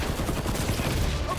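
Rapid rifle gunfire rattles continuously in a sci-fi action game battle, dense and steady throughout the short burst with combat noise around it.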